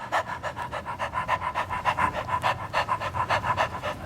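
A person imitates a dog panting with a rapid, steady run of short breathy huffs, about four per second, close and fairly loud, with no other talking.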